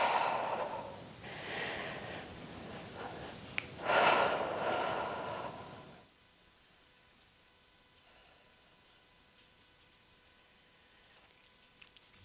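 Slow, audible breaths in and out during a Pilates reformer workout, with soft breathy exhalations for about six seconds before the sound drops to near silence.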